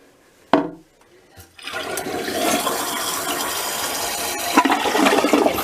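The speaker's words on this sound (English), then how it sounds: "flushed, and it's refilling with water" A toilet fitted with a Fluidmaster repair kit gives a sharp flush clunk, then the tank refills with a steady loud rush of water, up close with no talking.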